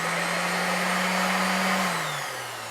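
A Topshak TS-SD4 240W random orbital sander runs with a loud, steady motor whine and airy rush, then its pitch drops slightly near the end.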